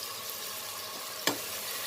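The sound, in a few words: frying garam masala in a pan for kabuli chana pulao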